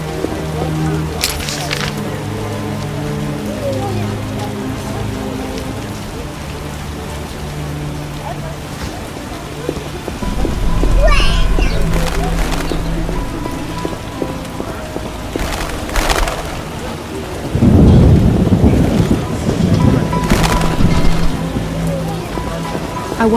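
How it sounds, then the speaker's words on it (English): Rain and a building thunderstorm in The Witcher, a steady wash of rain with deep low rumbles swelling twice, while game characters talk over it. "Storms come in."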